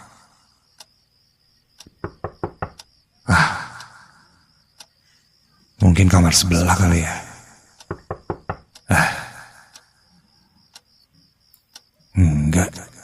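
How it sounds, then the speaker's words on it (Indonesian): Knocking on a bedroom door at night, delivered as several short bursts of quick raps separated by silences, close and crisp, with a brief spoken remark between them. "Aku merasa dia mengetuk pintu kamar."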